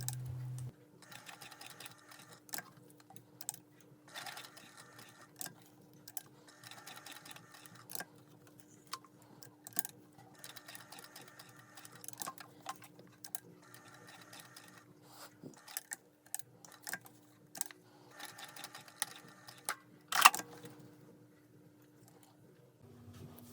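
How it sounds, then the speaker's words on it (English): A sewing machine stitching an X-box pattern through bag webbing, with quick ticking needle runs in repeated bursts and pauses while the work is pivoted, faint and steady, with a soft hum beneath. "Then sew the X-box stitch."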